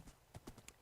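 Hooves of a horse in Minecraft clip-clop in quick, uneven taps, several soft hoof strikes within under a second, faint and close against a quiet background.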